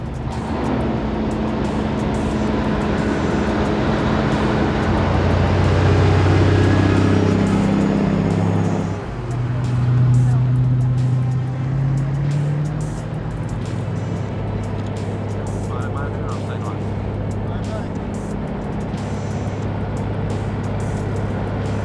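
An oversized heavy-haulage truck moving a 583,000-pound transformer along a road. A loud, low engine drone swells and shifts pitch midway, then settles into a steadier, somewhat quieter hum.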